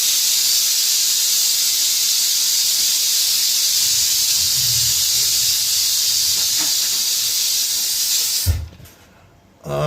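A blender purees yogurt and coconut oil into a smooth paste, giving a loud, steady whirring hiss that runs unbroken for several seconds before cutting off abruptly near the end.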